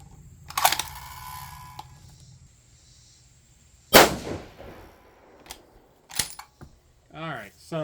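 A Bergara B14 HMR rifle chambered in 6.5 PRC fires one sharp, loud shot mid-clip, with softer bangs, clicks and brief talking scattered around it.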